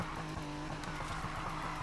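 A Volkswagen Beetle drift build sliding sideways in a racing video game, its engine droning steadily with a tonal hum while the tires squeal and scrub through the slide, loud and continuous with no talk.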